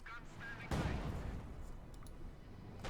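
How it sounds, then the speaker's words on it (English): A StuG assault gun fires in the Company of Heroes 2 strategy game, one heavy boom landing partway in and rumbling away, with a commentator talking over it and honking unit sounds around it. "StuG continues to bombard."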